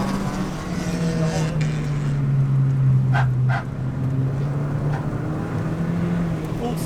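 A Ford Fiesta ST180 drones steadily on a track day, its engine note rising and dipping as the wheels spin, with a couple of brief sharp noises cutting through and some speech underneath.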